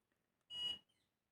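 A hair curler gives a single clear electronic beep, a steady high tone lasting about a third of a second, close and distinct against near silence.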